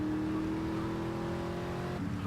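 A steady car engine drones at a constant pitch during a street race in GTA Vice City, then shifts down abruptly near the end, with no voices.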